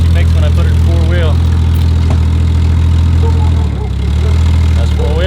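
A Jeep ZJ idling after being shifted into four-wheel drive, a loud, steady low engine rumble with a brief dip near the end and wavering whine-like tones above it.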